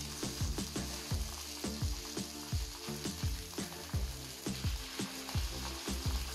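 Sardines fry on a banana leaf in a pan, a constant close sizzle punctuated by regular, rhythmic tapping clicks, with no voices.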